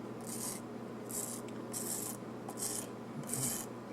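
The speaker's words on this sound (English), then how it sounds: "You press harder and just keep rubbing." Repeated firm rubbing strokes over a dry-transfer lettering sheet, about five rasping bursts in a steady rhythm, close and fairly loud with a low hum underneath.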